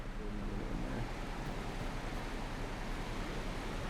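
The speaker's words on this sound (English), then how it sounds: "There's a waterfall." A steady, dense broadband rush of waterfall in Dragon Age: Inquisition pours continuously without break, even and fairly loud throughout.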